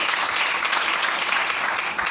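A church congregation claps and cheers in a steady burst of applause that fills the room, with no voices standing out.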